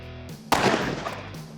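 A single loud gunshot from a Smith & Wesson 500 revolver fired at a ballistic plate, a sharp blast followed by a short ringing decay.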